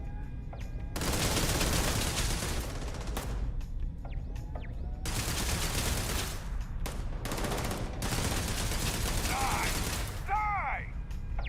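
Turret gunfire in a Starfield sci-fi shooter comes in long loud automatic bursts separated by short gaps, with a voice speaking between volleys and some electronic chirps near the end.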